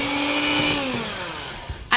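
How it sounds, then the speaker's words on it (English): A motorized blender whirring through oatmeal raisin cookie batter, gluten and dairy free: a loud, steady high whine that slowly drops in pitch and winds down, ending with a couple of clunks. "Then we're gonna just blend this up really quickly."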